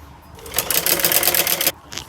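Sewing machine stitching a folded trouser hem in one burst of rapid needle clatter lasting just over a second, starting and stopping sharply, close and fairly loud with brief quiet before and after.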